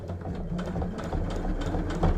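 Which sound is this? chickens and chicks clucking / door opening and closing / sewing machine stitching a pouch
sewing machine stitching a pouch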